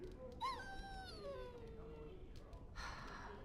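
A dog in the game Dragon Age: Origins lets out one drawn-out whimpering whine that rises and then slowly sinks, followed by a soft hissing rustle near the end.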